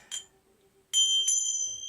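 A small bell rings in short, bright metallic strikes: one brief ting, a pause, then two more rings close together that leave a clear sustained tone hanging in a quiet room.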